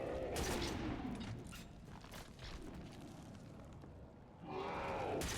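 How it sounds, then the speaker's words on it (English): A shotgun pistol fires in the Halo: MCC video game, with booming blasts in quick bursts at the start and again at the end, plus mechanical clatter and low rumble in between. "The shotgun pistol is so fun."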